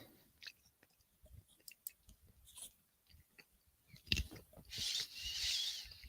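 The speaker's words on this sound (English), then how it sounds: "Sorry, don't mean to crunch in your ear." Someone chews a crunchy dinner close to the microphone, irregular crisp bites and soft mouth noises scattered between quiet gaps, ending in louder crackly crunching.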